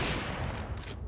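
Rapid gunfire bursts continuously in a Counter-Strike esports match, a dense, loud barrage of overlapping shots with no pause.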